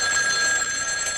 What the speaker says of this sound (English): Is that our phone?